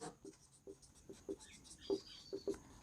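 Pen on paper writing out a maths problem: a string of soft, brief scratching strokes in an irregular rhythm, faint and close, with no talking.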